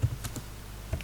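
Someone types a ping command on a computer keyboard, giving a few quick, soft key taps close by in a quiet room.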